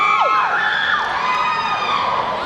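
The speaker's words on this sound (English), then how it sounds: "This is my favorite part of the show, when y'all scream." A cosplay masquerade contest audience at Otakon 2018 screams and cheers, a loud, dense wall of high shrieks and whoops sustained for the whole moment with no break.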